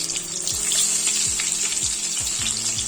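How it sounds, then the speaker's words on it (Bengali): Four eggs frying in hot oil with salt, a continuous close hiss and crackle of sizzling with faint low knocks underneath. "লো করে দিয়ে এই ডিম 4টে আমি এই তেলের মধ্যে ফ্রাই করার জন্য দিয়ে দিচ্ছি।"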